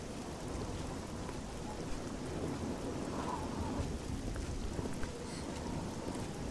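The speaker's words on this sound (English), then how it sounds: "But it's a stormy and rainful night." Rain pours steadily with low rumbling thunder during a stormy night in the video game Oblivion, a dense continuous wash of sound with no voices.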